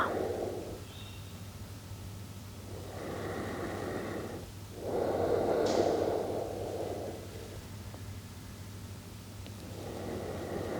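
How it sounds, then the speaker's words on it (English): Slow, deep breaths during a quiet yin yoga session, each long airy inhale and exhale rising and fading in an unhurried rhythm over a faint steady hum. "Deep breaths here."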